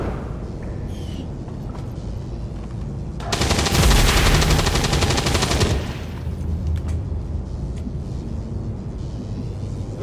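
Rapid weapon fire in the tactical game XCOM: War of the Chosen: a loud, dense sustained burst of automatic gunfire lasting about two and a half seconds, set against steady battlefield ambience, with no voices.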